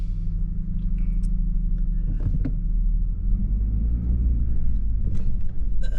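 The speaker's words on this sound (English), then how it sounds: "I'm just going to drive through this little turnaround circle" A car rolling slowly through a small turnaround circle gives a steady low engine and road rumble throughout, with a few light rattles and clicks from inside the cabin.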